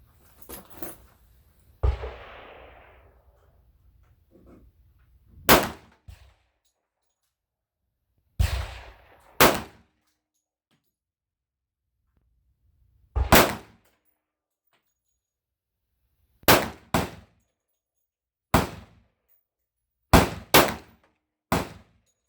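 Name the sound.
gunshots from Springfield XDM pistol with .460 Rowland kit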